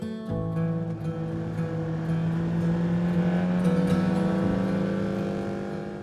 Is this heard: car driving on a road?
yes